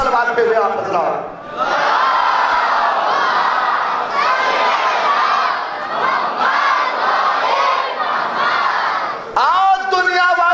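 Large congregation at a Muharram night majlis loudly reciting salawat together, a dense, sustained roar of many voices in unison filling nearly the whole stretch, with a lone voice briefly before and after.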